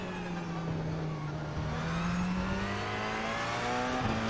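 Race car engines drone loudly and steadily on a road course in the iRacing sim as a GTE car is overtaken, a sustained close roar with pitch slowly climbing, no voices.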